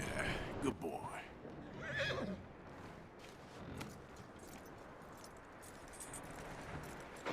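A horse whinnies in Red Dead Redemption 2, with a couple of close neighs and snorts early on, then quieter ambience with faint jingling tack.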